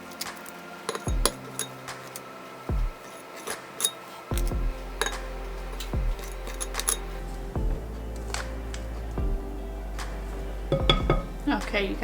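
Spoonfuls of white chocolate chip lemon cookie dough go onto a parchment-lined baking sheet, giving a series of sharp clinks and taps of a metal scoop and pan at irregular intervals, close and distinct, with a low hum beneath.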